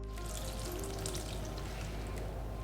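Water squeezed out of grated radish (mooli) through a cloth runs in a steady, close trickle and patter with no voices.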